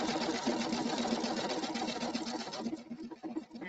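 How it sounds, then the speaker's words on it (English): A sewing machine stitching steadily at a fast, even pace, with the needle-down setting on and a tapered start to the seam; the run is continuous and close, turning slightly uneven near the end. "And I'll let it stitch for just a little bit."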